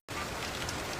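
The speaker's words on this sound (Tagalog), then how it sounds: "Kahit malakas ang ulan" Heavy rain pours steadily on a surface, a dense, even hiss that starts abruptly and stays loud and unbroken throughout.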